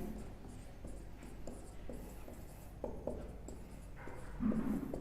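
A pen scratches across paper while notes on hyperconjugation are taken in an organic chemistry lecture, giving short, close scribbling strokes in uneven bursts over a quiet room.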